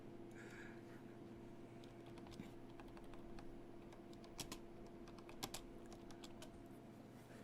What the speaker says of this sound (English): I'm going to type that.